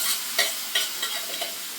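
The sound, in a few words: sautéing boiled soybeans with turmeric and Kashmiri chili powder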